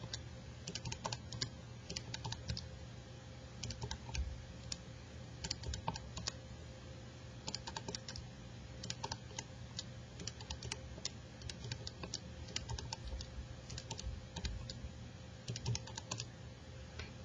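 Calculator keys are pressed one after another while numbers are entered, producing a string of faint, irregular plastic taps and clicks with no talking.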